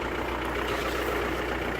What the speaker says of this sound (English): the engine's running on my other vehicle